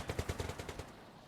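Volksgrenadiers firing MP40s in the Company of Heroes video game: a rapid burst of about eight or nine sharp submachine-gun shots in quick rhythm, moderately loud, then fading out.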